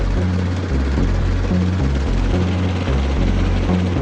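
A CH-47 Chinook twin-rotor military helicopter thunders close by, its loud, low rotor thump pulsing steadily and continuously throughout with broadband engine roar on top.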